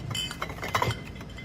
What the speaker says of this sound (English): the glass clinks